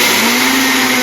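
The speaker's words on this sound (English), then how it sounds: "we're gonna go ahead and start blending our roasted seeds" A countertop blender grinding roasted sunflower seeds into butter, a loud, steady, unbroken motor whir with a harsh, grinding roar, close by and with no talk.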